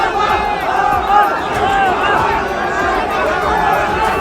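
A large, dense crowd gathered outside Lal Parade Ground, a loud continuous roar of many voices with overlapping shouts and chatter, close and unbroken throughout.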